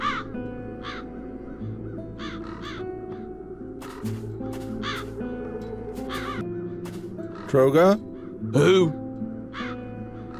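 Crows caw in the video game The Dark Eye: Chains of Satinav, two loud harsh caws near the end over quiet background music, with a voice talking earlier.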